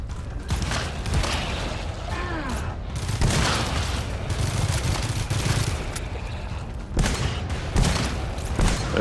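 Gunfire in the co-op shooter GTFO: rapid, sustained bursts of shots crackling in quick succession, briefly pausing and resuming, with French-speaking players talking underneath.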